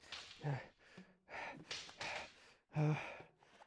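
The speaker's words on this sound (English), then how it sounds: "I stop, breathing heavily, shoulders heaving." Heavy, heaving breaths after sword practice in the Fate/stay night visual novel, several loud gasping exhales and sighs in uneven bursts with short pauses, close and alone.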